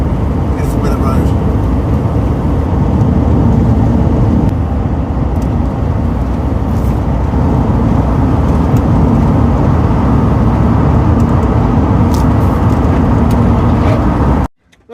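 Camper van cruising along the A55 North Wales Expressway on a wet day, steady loud road and engine drone with tyre hiss continuing unbroken throughout, fading out abruptly at the very end.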